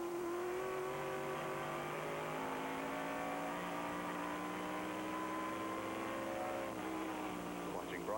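NASCAR Busch North stock cars race at Lime Rock Park, a steady loud roar of several V8 engines holding sustained tones that shift in pitch as cars run the back stretch, with a commentator talking over the engines throughout.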